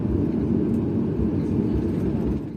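An airliner taxiing at Nanchang Changbei International Airport, a steady, loud low engine rumble and whine heard from inside the cabin with no voices.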